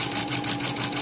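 A sewing machine runs zigzag stitches across cloth diaper fabric, a rapid, loud mechanical rattle of needle strokes in a fast, even rhythm, close and continuous for about a second.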